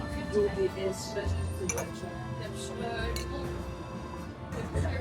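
Glasses touch in a champagne toast at a Paris restaurant, giving light, bright clinks under steady conversation and background chatter.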